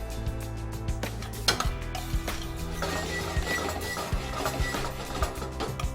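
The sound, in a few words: pan shaken to swirl melting butter in sauce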